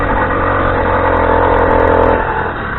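A motorbike engine fires and revs, holding a loud, steady mid-pitched drone close by, with a slight dip in revs toward the end.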